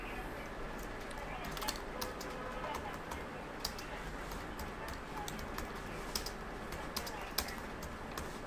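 Someone types on a computer keyboard, scattered soft key clicks coming in irregular bursts over a steady background hiss, faint and close.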